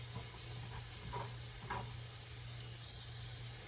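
Bacon fries in a pan with a steady, soft sizzle and hiss, broken by a few brief scraping or stirring sounds, with a low hum underneath and no talking.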